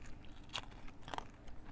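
Hard, dense caraway ration bread bitten three times, each bite a sharp, close crunch with crackles in between.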